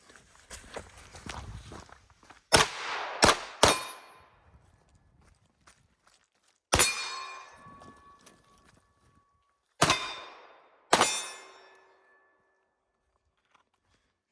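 Sharp gunshots from a live-fire defensive shooting drill, one shot alone, then a rapid pair and two further separated shots, each loud and close with a ringing decay, after quiet shuffling footsteps.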